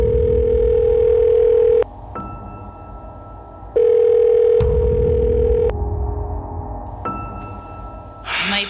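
Unanswered phone call, a repeated electronic ringback tone in long steady bursts separated by pauses, loud and close, with a clattering noise at the very end.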